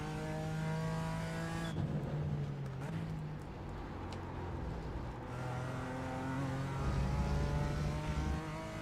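Sustained engine drone of a BMW M4 race car in the iRacing sim at Road America, a steady harmonic roar that shifts pitch through gear changes and accelerations, loud and continuous throughout, with a faint voice underneath.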